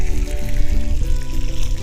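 Meat frying in hot olive oil, a continuous close sizzle and crackle with a low hum underneath, steady throughout.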